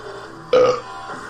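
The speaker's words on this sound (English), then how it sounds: "Did I actually burp? Yes, you did." A single close, loud burp lasting about a quarter second, standing out alone against quiet room tone.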